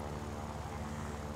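A Yakovlev 9P propeller fighter in War Thunder's realistic battles mode gives a steady, close engine drone that holds level throughout the short stretch, with no pauses or shifts in pitch.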